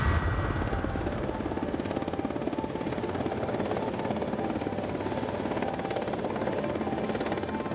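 Rescue helicopter arriving, its rotor chop a steady, loud, continuous thrum with engine whine on top, close and unbroken throughout, no talking.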